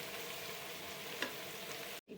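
Vegetables sautéing in a pan with salt and coriander leaves, a soft steady sizzle and crackle with one brief stir or tap, then a sudden cut to silence near the end.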